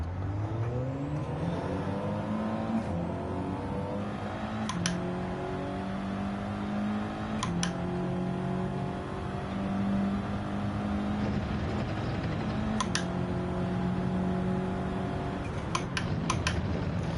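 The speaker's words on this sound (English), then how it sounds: "Hear that turbo flutter" An Audi race car in Gran Turismo 7 accelerates through repeated gear changes, its engine note climbing and dropping in steady waves, with brief sharp turbo-flutter chirps between shifts; no talk.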